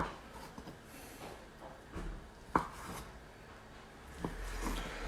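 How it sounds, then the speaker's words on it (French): Knife slicing raw tuna into strips and cubes for a tartare on a cutting board, a few faint, sparse taps and soft cuts against a quiet kitchen background. "Donc moi, je coupe mes lamelles à l'avance. Et je ferai mes cubes en même temps."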